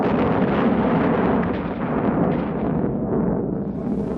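Aerial bombing of North Vietnam during the 1960s Vietnam War: a dense, continuous roar of heavy explosions that rumbles loudly throughout and thins slightly near the end.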